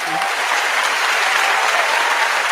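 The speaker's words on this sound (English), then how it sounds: "Could we give Ford a round of applause?" A crowd gives a steady, loud round of applause, dense continuous clapping with no break for the whole stretch.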